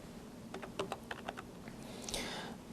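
Someone types a date on a computer keyboard, a short run of faint, quick key clicks followed by a slightly louder tap, with no talking.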